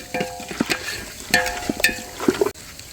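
Chicken dum biryani mixture, Bhimavaram style, being stirred in a pot: repeated close scraping and clanking strokes of a spoon against metal over a faint sizzle, in an uneven rhythm.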